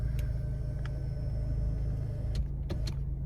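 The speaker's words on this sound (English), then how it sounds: "Let me turn my car off" A car idles with a steady low engine rumble, close by and alone, broken near the end by a few sharp clicks and thumps as it is switched off.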